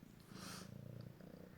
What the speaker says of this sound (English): My cat is cleaning himself on me because he just got a bath.